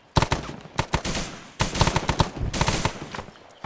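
Gunfire in the video game Arma 3, on a jungle warfare patrol: loud, close bursts of rapid automatic fire with sharp single shots, almost continuous, with no voices.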